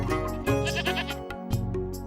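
Goats tied to a post bleat loudly and close by, several wavering, nasal cries following one another with short breaks between them and no speech.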